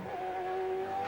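A 2001 Holden V8 Supercar on the race circuit, its engine a steady loud drone with a sustained high whine as the car slides sideways under power, alone without talk.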